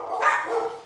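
A dog gives a single short bark or yip, fairly close and loud, then it fades quickly.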